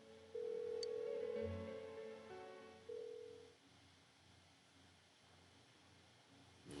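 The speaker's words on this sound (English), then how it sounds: "Why won't she pick up the phone?" A phone call rings out unanswered in Persona 4 Golden, with electronic dial and ring tones sounding in a few bursts before fading into quiet hiss.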